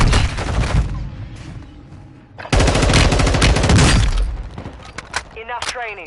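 Rapid machine-gun bursts rattle loudly in two long volleys with a short pause between them, followed by scattered single shots and a brief voice over the noise.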